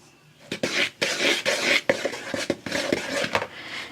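Dry salt being stirred into flour in a bowl for a pie crust, a series of close scraping and knocking strokes of a utensil against the bowl in an uneven rhythm, with no talking.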